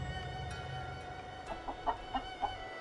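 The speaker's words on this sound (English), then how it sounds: "I think this chicken's about to lay an egg." A chicken in the Tales of Xillia role-playing game gives a short run of clucks, about five soft pulses in the second half over a steady hum of game music and ambience.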